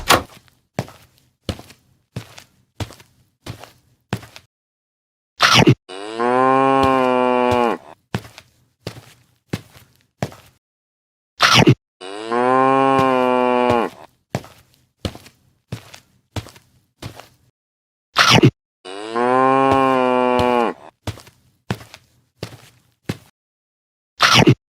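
Three long, loud cartoon cow moos from cattle on a farm at Eid al-Adha, each separated by stretches of sharp rhythmic thunks and knocking, with no voices.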